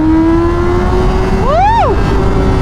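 A Honda Fireblade 1000cc motorcycle engine holds a steady drone, then revs sharply upward and drops back, loud and close against constant wind noise.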